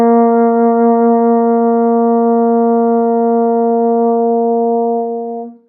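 A single long upper B flat on a baritone horn, fingered open, held steady and loud for over five seconds before tapering off, with no talking.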